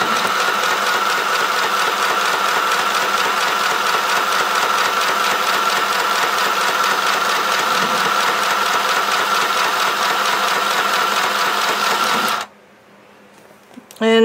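A Tivax Lil Sew & Sew LSS202 sewing machine winds a bobbin at low speed, giving a steady, even mechanical whir that stops abruptly near the end, followed by a brief click.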